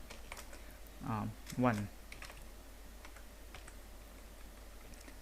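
Light clicking keystrokes on a computer keyboard, scattered quiet taps through the stretch while someone briefly speaks over them.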